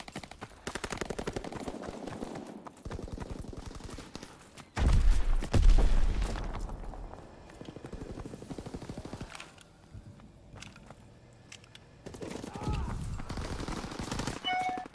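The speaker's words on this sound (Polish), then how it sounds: "Czemu ładuje do synka cały magazynek." Automatic gunfire in a PS4 shooter game, a whole magazine emptied as long rapid bursts of shots rattle in quick succession, with a heavier boom in the middle and further bursts around it, loud and close.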